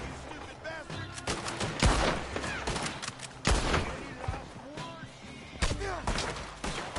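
Gunfire rattles in Red Dead Online, with sharp shots and rapid volleys cracking irregularly at close range over busy background game noise.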